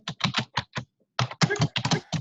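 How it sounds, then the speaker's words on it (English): Hard, rapid keystrokes hammer a computer keyboard up close during an online video meeting, coming in two loud bursts of clattering taps with a short pause between them. "you're just beating that keyboard to death"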